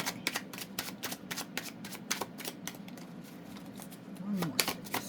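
Tarot cards riffled and shuffled by hand in a quick, steady run of crisp flicks and snaps, close and clear, with a faint voice murmuring once near the end.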